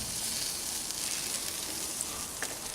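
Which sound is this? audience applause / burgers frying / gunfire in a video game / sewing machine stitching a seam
burgers frying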